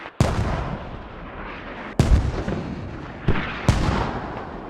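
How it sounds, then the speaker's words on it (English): Mortar rounds land in the tactical shooter Squad, four sharp booming impacts spaced unevenly, each trailing a rumbling decay, loud and fairly close with no voices. "They're trying to slow down NC's push from the north by sending mortars."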